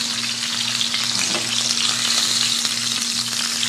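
Tilapia fillets sautéing in a pan, a steady close crackling sizzle that holds even throughout, over a low electrical hum and no voices.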